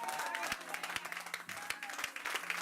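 A church congregation applauding, steady dense clapping from a crowd filling the whole moment with a faint voice underneath.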